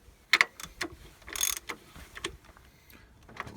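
A wrench turning a nut on a clutch hard line during a home clutch replacement, producing faint scattered metallic clicks and ratcheting ticks with a brief louder scrape partway through.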